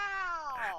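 A male phone-in caller imitates a cat with a single drawn-out, rising then falling meow, close and clear, with no other speech over it.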